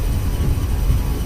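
Steady, dense roar of an Airbus A319's jet engines spooling at takeoff power in Microsoft Flight Simulator 2024, a constant broadband rush heard from the cockpit with no speech.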